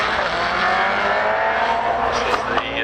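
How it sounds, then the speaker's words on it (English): Pilbeam MP88 hillclimb car with a 2-litre Millington engine accelerating hard up the hill at Harewood, a loud sustained high-pitched engine scream with rising harmonics throughout, close and continuous. "This is the 2-litre Millington engine propelling this little Pilbeam to the top of the hill."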